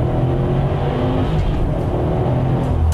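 Cars driving at speed in a timed comparison run, a steady loud engine and road roar holding throughout with no break or pause.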